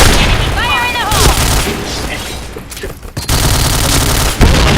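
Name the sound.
gunfire from a video game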